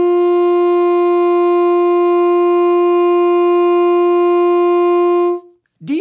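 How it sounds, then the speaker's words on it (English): An alto or baritone saxophone holds a single steady D note for about five seconds, clear and loud, before it cuts off into a brief noise. "the next note that we're going to learn is the note D."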